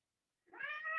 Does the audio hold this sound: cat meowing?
yes